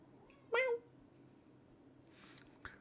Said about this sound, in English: The cat's having a wiggle.